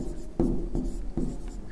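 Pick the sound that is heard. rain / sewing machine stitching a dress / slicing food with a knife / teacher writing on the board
teacher writing on the board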